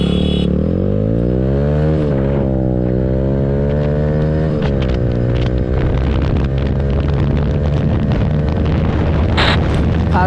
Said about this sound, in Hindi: ଏବେ ଆମେ ड्रैग रेस କରିବାକୁ ଯାଉଛୁ।